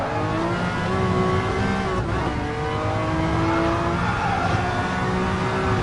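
Group C race car engine in Gran Turismo Sport, a steady loud roar held at high revs throughout with slight pitch shifts as gears change, close and continuous with no talk.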